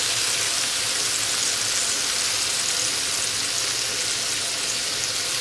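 Onion frying in fat in a pan over very low heat gives a steady, even sizzle and hiss that runs unbroken from start to finish, with no talking.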